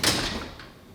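A hotel room door opening and shutting: a single loud close knock at the start, followed by a brief rattle and a softer second bump as it settles.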